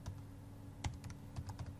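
Keys on a computer keyboard are tapped in an irregular series of soft, close clicks over a faint steady hum, with no voices.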